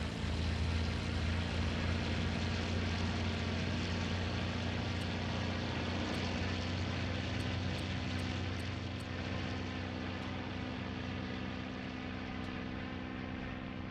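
The engine of a P-47D Razorback fighter in IL-2 Great Battles gives a steady, loud propeller drone with a deep rumble that holds evenly throughout, with faint high ticks here and there.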